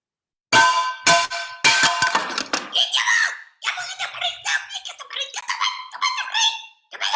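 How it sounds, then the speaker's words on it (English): A tavern's back door creaks open in a loud, high, wavering squeal with several sharp pulls, then gives way to excited voices talking. "The back door creaks open."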